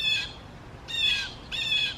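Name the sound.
birds squawking outside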